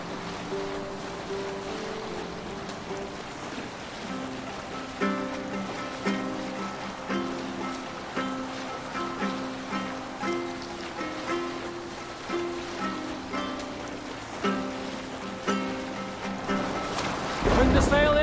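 A Viking longship under sail on open sea in Assassin's Creed Valhalla, with steady wave wash and wind beneath a crew singing a rhythmic rowing song, its pulsing beat continuing until a louder rush of water at the end.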